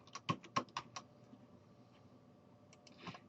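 Fingers tap out a short burst of quick, crisp keystrokes on a computer keyboard, close and fairly quiet, then pause before a few more soft clicks near the end.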